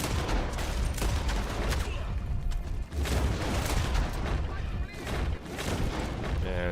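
Dense, continuous gunfire from a Red Dead Online shootout, rapid overlapping shots and bursts filling the whole stretch at steady loudness, with a voice talking faintly underneath.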